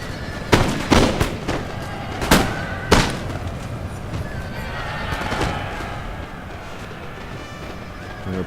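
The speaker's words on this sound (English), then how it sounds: "I'm going to get another charge of cavalry into my old guard" Cavalry horses whinny and hooves clatter during a charge in a strategy video game battle, with several sharp gunfire cracks in the first three seconds over a steady din of combat.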